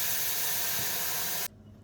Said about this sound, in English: And lots of steam